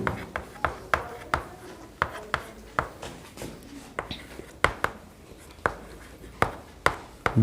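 Chalk or marker tapping and scraping on a board during a Hindi-language chemistry lesson on aldehydes and ketones, a steady series of sharp strokes and short scratches at close range with no talking.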